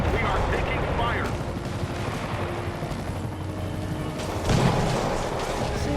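Gunfire in Marvel's Spider-Man crackles under a continuous loud wash of game battle noise, with a burst near the end and a voice talking through it.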